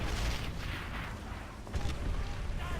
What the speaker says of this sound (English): So there's a couple of tanks roaming around, as you can probably hear.